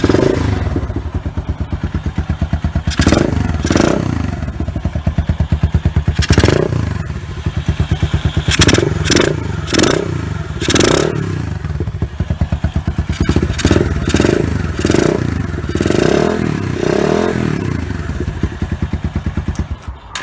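A Lexmoto Venom 125 motorcycle engine fires up from cold and keeps running, a steady close-up putter broken by repeated clattering thumps and scrapes, with no talking over it.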